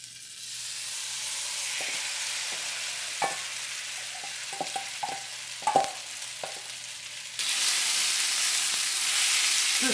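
Beef frying in oil in a pan, heard first as soft sizzling with scattered clinks and scrapes of stirring, then bursting into a loud, steady sizzle as more meat hits the hot oil.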